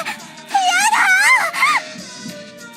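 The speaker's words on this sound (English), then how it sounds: "she began to scream" A woman screams in an audio drama, drawn-out wailing cries rising and falling in pitch, loud and close, several long anguished bursts then fading to quieter sobbing.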